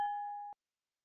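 A single clear bell-like ding rings out and holds for about half a second before stopping abruptly, alone and fairly quiet.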